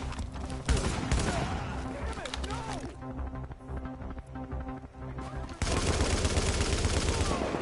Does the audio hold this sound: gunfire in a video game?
yes